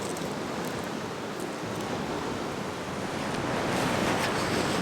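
Ocean waves wash steadily along a coastline in a continuous broad roar, with wind buffeting the microphone and no distinct breaks between surges.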